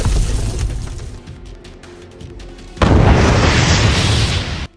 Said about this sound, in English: The ground trembled with over 80 separate explosions